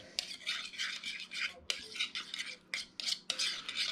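A utensil stirs butter through frozen vegetables in a pan, giving quiet, close scraping and swishing strokes in irregular bursts with short pauses between them.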